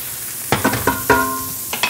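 Shallots sizzling in a pan, a loud close sizzle broken by several sharp pops and clatters of stirring in quick succession.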